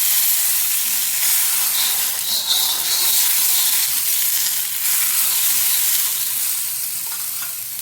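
Butter sizzles and fries steadily in a hot pan while pav bhaji is being made, a loud continuous crackling hiss with faint stirring, close by and with no talking.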